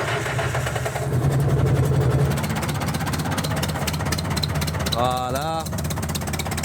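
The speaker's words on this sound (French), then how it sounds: "On va lui faire un petit démarrage à froid." An old International 644 tractor engine cold-starting in snow, a steady diesel chug and rattle that runs throughout, with a brief speaking voice near the end.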